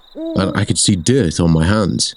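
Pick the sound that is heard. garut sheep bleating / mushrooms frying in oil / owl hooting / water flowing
owl hooting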